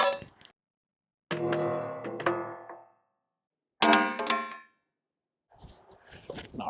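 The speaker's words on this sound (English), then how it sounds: "We're gonna do one more drop test." A Trijicon RCR fully enclosed red dot optic slams down in a drop test, giving two sharp metallic clangs with ringing decay, separated by silence, followed by some brief rustling handling noise.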